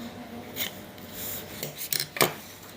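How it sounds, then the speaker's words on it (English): A knife scrapes bark from a Pakistan mulberry cutting in a few short rasping strokes, quiet and close, ending in a quick cluster of sharper scrapes. "And we're going to scrape a little bit more off."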